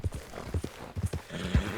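Horse hooves clip-clopping in a video game, a steady trotting rhythm of paired thuds, fairly close and moderately loud with a faint background ambience.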